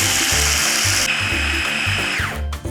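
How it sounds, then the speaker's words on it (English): An electric spice grinder whirs loudly, grinding spices to a fine powder in pulsing bursts, with a low rumbling motor and high whine that winds down near the end. "So roughly half of it, you want to grind it quite fine."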